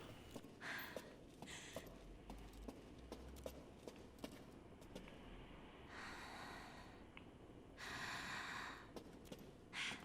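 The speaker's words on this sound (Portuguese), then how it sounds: "Olha a respiração dela." Heavy, audible breathing from the character Rose in Resident Evil Village, with several loud breathy gasps and exhales standing out over a low, quiet game ambience, along with faint footstep-like clicks.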